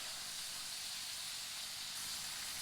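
Fries sizzle in hot oil at an outdoor ice fishing cook-up on a frozen lake, a steady loud hiss that holds unbroken throughout.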